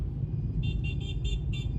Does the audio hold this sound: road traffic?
yes